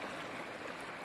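Narmada river water flowing in a steady, close babbling rush at Omkareshwar, an even broadband wash with no other sounds.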